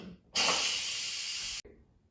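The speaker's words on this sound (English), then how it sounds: "I'm going to quick release the remaining steam" An Instant Pot quick-releasing its remaining steam after a natural release gives a loud, steady hiss. It starts abruptly, holds for just over a second, then cuts off sharply into quiet.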